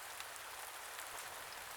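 Steady rainfall, a soft even hiss of drops pattering on surfaces, continuous and fairly faint with no other sounds.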